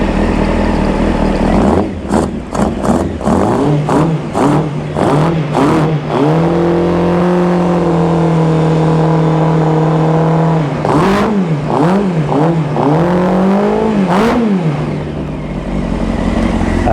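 A Honda CBR600 project bike runs close by on a cold morning. The engine blips sharply several times, settles into a steady idle, then rises through a few longer swelling revs before easing back.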